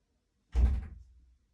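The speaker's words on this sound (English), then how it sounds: "one of my cats by my door" A house cat bumps against a door, giving a single dull thud that lingers briefly and fades, close by in an otherwise quiet room.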